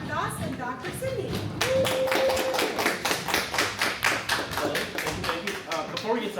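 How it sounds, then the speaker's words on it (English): Audience applause for speakers at a women's health event at Mission College: a dense, steady crowd clapping that fills the room, continuing at an even level with slight pulsing throughout. "give it up for Dr. Doss and Dr. Sydney"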